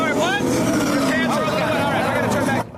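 Loud engine whine from the GTR Racing video game in a driving simulator, revving with rising and falling pitch sweeps, continuous and close, cutting off abruptly at the end; a voice talks faintly underneath.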